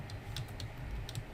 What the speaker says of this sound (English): So I'm just typing in there.